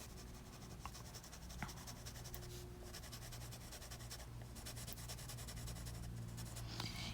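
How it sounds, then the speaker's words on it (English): Pencil or marker coloring on paper makes a soft, continuous scratchy rubbing, faint and close, with steady back-and-forth strokes and no talking. "It feels so good to put the colors on the paper."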